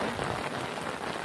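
Steady rain pours down, a dense, even hiss of drops hitting surfaces close by with no voices or pauses.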